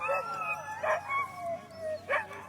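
Sled dogs at the start of a sled dog race in Willow, Alaska, howling and yipping in several rising wails over a steady hum, moderately close with no talking.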